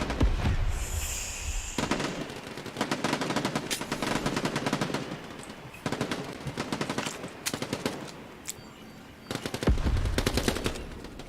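Rapid gunfire in the video game Quantum League: dense bursts of automatic shots in clusters, loud and close, separated by short pauses, with a louder low boom near the start and end.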